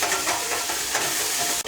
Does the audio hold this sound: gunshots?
no